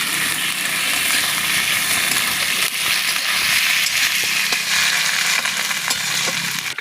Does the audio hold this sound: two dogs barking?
no